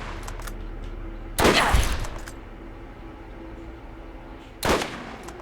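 Gunfire at zombies in a video game: two loud sharp bursts of shots a few seconds apart, each followed by a short decay, over a quiet low game ambience.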